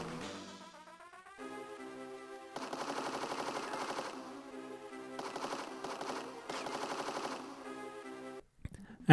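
Gunfire in a Game Boy Advance shooting game: rapid chiptune-style machine-gun bursts in several stretches, playing alongside tinny game music with short gaps between volleys and a sharp hit at the end.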